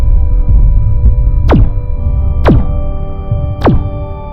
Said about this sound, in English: Begin weapons test. Fire 3 shots.